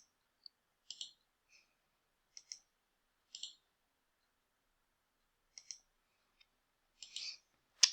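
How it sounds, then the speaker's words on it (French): A computer mouse clicks in quiet surroundings, producing about a dozen small, crisp, isolated clicks at irregular intervals, close and faint. "je vais simplement cliquer droit, enlever l'affichage"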